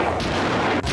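Gunshots fired from a white Cadillac pulling alongside, heard as a loud, dense burst of booming gunfire filling the whole second with no voices.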